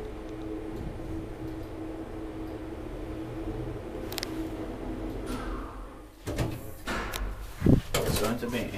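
An old Schindler traction elevator's door slides open with a rumbling mechanical clatter near the end, following a steady motor hum, while people talk quietly nearby.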